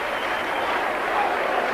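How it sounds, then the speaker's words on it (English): Warrington rugby league fans cheer after a goal kick against Leeds, a steady, distant crowd roar with clapping that holds at an even level throughout. "the Warrington fans delighted. You must have heard the cheer"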